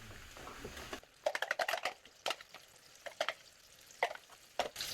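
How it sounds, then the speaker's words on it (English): Beans drop into melted beef fat in a pan, setting off a soft background sizzle broken by crisp irregular crackles and stirring clicks in close, uneven bursts. "Now that we've melted our beef fat, it's time to add our beans."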